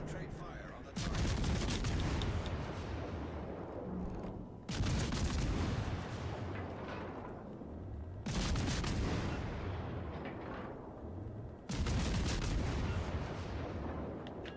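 Battleship gunfire in World of Warships: Legends, four heavy booming salvos a few seconds apart, each with a long rumbling decay, loud and close.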